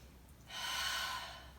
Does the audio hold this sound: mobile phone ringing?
no